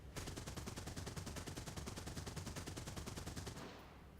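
Rapid, evenly spaced bursts of 20 mm cannon fire from a bomber's gun position in War Thunder, loud and continuous for about three and a half seconds before cutting off into a fading tail.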